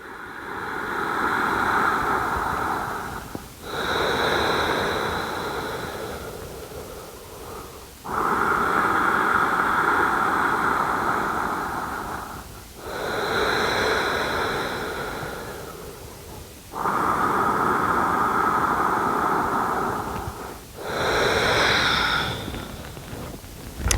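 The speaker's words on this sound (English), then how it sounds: "We'll be here for 3 more slow breaths." Slow, deep yoga breathing close to the microphone, several long airy inhales and exhales in a steady rhythm with brief pauses between.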